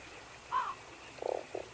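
A video game toad from Fran Bow gives a short croak, then a pair of rattling croaks, all quiet and close against a faint hushed background.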